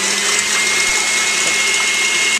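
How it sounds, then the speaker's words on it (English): An electric mixer whirs at a steady, loud pitch as it beats eggs for a cream cheese pound cake, running continuously before cutting off abruptly. "now what you do is you have to beat the eggs until they are snow white"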